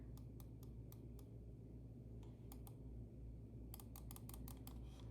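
Side buttons on a Vaxee E1 gaming mouse give crisp, sharp clicks, first singly and spaced apart, then in a quicker cluster near the end, faint over a low steady hum.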